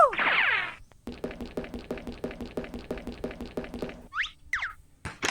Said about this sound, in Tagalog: Mga kumakatok pero di nagsasalita kung sino.